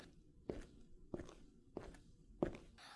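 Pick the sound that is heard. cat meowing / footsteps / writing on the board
footsteps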